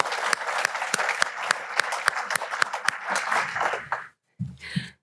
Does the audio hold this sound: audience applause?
yes